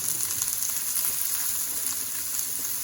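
Potatoes frying in a little olive oil for Lyonnaise potatoes, giving a loud, steady, dense sizzle throughout with no talking.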